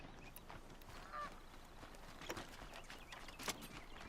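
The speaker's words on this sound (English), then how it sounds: "I did not kill that goose and I needed it." A goose in the video game Horizon Zero Dawn honks a few times at low volume over a busy ambient game soundscape with scattered footsteps and clatter.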